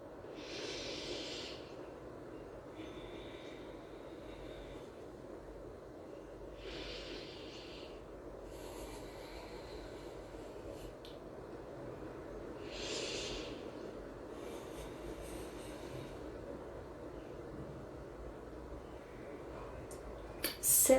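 Slow, calm yoga breathing: long soft inhales and exhales repeat at an unhurried pace, close and quiet, with several breaths spread across a low background hiss.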